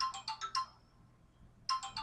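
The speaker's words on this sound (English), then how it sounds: "Hold on, that's my phone." A mobile phone ringtone rings in two bursts of quick, bright electronic tones, pausing briefly in between, heard fairly close with no talking over it.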